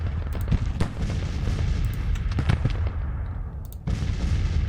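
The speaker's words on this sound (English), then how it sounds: "They're going to fall back because they're facing that artillery and just getting lit up." Artillery booms and rolling musket fire sound from a Civil War battle in the strategy game Grand Tactician: The Civil War, fought in Kentucky. Sharp cracks and deep rumbles come in dense, overlapping volleys over a constant low roar.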